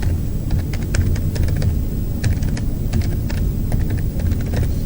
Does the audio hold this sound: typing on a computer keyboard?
yes